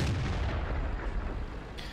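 A KV-220 tank gun in World of Tanks fires an APCR round, a loud, dense low boom that fills the short moment and rumbles on without a clear separate second shot.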